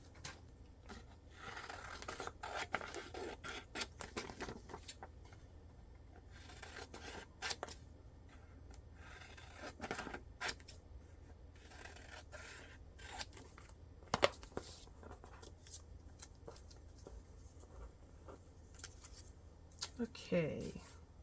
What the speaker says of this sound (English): I'll just cut these out and use them in pieces